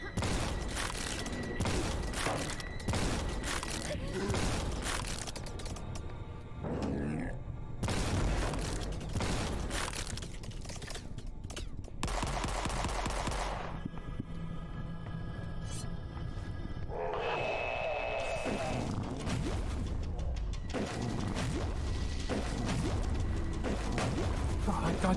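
Missile shots fire in the boomer-shooter game Forgive Me Father, with dense rapid blasts, booms and mechanical clatter running continuously at close range, layered with game effects and a voice talking over parts of it.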